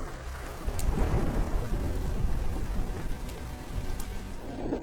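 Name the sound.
thunderstorm with rain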